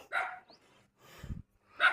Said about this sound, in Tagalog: Uy, may kasama ka palang tuta dyan sa loob.